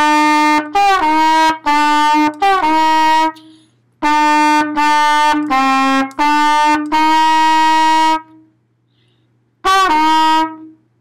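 A trumpet sounds the note F with first finger, a series of clear, loud, steady tones: short repeated notes, then longer held ones, separated by silences, played alone with no talking.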